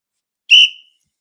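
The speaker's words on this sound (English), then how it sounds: "Blowing a whistle at 10 o'clock at night." One short, sharp blast on a referee-style whistle, shrill and close, rises out of silence and ends abruptly.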